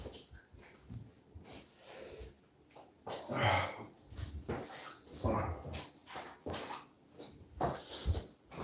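A dog named Papa Louie, being leashed for a walk, snorts, sniffs and whimpers close by in uneven bursts, fairly quiet, with no talking.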